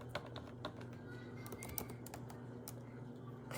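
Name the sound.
typing on a computer keyboard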